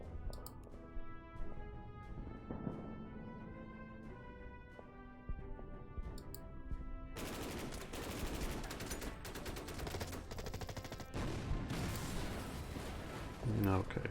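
Gunfire in the strategy video game Order of Battle: Red Steel, a dense stretch of crackling shots and bursts that grows louder and busier partway through, over a continuous game soundtrack with no talking.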